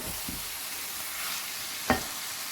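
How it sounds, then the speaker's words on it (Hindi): Aloo gobhi of potato and cauliflower frying in a pan as it is stirred, a soft steady sizzle with a few scraping stirs and one sharp clink of the spoon against the pan. "ये सब अच्छी तरह से मिक्स कर लें"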